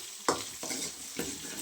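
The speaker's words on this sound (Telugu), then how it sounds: "ఎర్రగడ్డలు వేసేసి ఎర్రగడ్డలు వేయించుకున్నాం." Onions sizzle in hot oil in a pan for a ragi mudde meal, a continuous close frying hiss with a few stirring scrapes on top and no talking.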